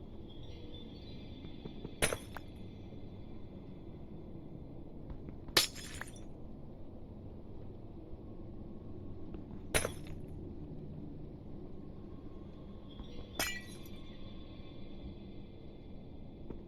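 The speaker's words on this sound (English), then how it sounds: "Pains me to lose every single little glass plane like this." Glass panes shattering in Minecraft, four sharp, bright breaks spaced a few seconds apart over a quiet, steady background hum.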